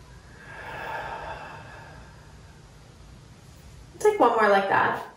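Soft deep breathing during a seated yoga class, a faint drawn breath in and out, followed by a person speaking briefly at the end.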